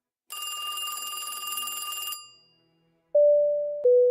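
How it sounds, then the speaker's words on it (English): A telephone bell rings in a steady, loud burst lasting about two seconds, followed after a pause by two sustained electronic tones, heard inside the Star Citizen game during a Luminalia holiday session. "If you can hear that phone ring, I need you to ignore that."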